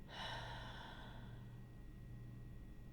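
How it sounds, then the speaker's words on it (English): A deep, slow exhale during a guided breathing exercise, a steady breathy rush that starts strong and fades gradually over about three seconds, close and alone without talk. "Hold it and exhale"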